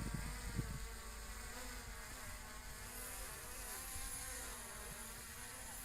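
Flycam Bugs 4W quadcopter drone carrying a GoPro Hero 5, flying with a steady high-pitched buzzing whine of its rotors, fairly constant in level with slight wavering pitch throughout.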